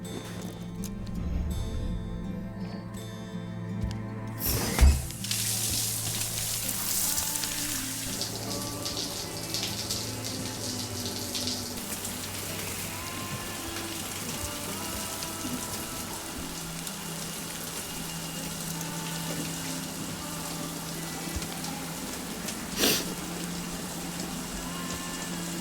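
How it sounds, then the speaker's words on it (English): Steady rush of running shower water in the video game Death Stranding, a continuous hiss of falling spray with a brief sharp knock early on and another later, no speech over it. "And a shower."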